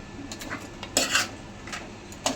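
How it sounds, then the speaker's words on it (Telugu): Crab being crushed during cleaning for a Telangana-style crab curry, heard as a few sharp clattering knocks and cracks against a plate or pan, close and moderately loud, with one heavier burst in the middle. "పీత దంచి"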